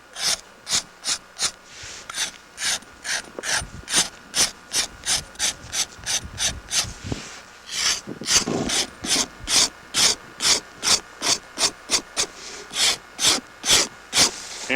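A blade scraping rawhide for braiding a riata, rhythmic repeated rasping strokes, close and regular, with a brief rougher stretch midway.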